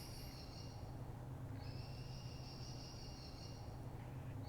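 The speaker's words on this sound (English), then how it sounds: "it was further away and got closer to the prison, closer to the recorder." A nocturnal bird near a prison sounds clear, sustained high whistles, a short one at the start and then a longer drawn-out call, above a steady low background hum.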